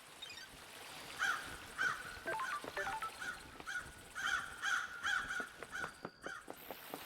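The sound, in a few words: birds cawing in the video game Paradise Killer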